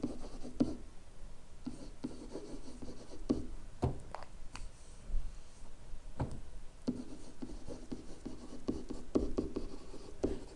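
Marker or chalk scratching across a board, short strokes in uneven bursts with pauses between, close and fairly quiet, no talking over it.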